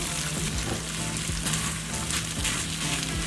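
Potatoes frying in butter and olive oil in a pan, a steady dense sizzle and crackle with occasional clinks, continuous and close throughout.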